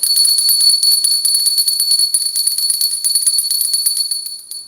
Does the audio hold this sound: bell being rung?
yes